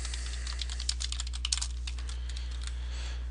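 Quick, uneven keystrokes clatter on a computer keyboard close by, a steady burst of typing over a low background hum with no voices.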